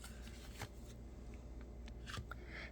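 A tarot card is drawn from the deck during a reading, giving soft, close papery rustles and slides with a couple of crisp flicks over quiet room tone.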